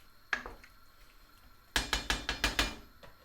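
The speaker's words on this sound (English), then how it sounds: "Then it just says put the lid on." A metal lid set onto a cooking pot of simmering mince beef and onion makes a faint single clank, then a quick series of rattling metallic clinks as it settles, close and quiet.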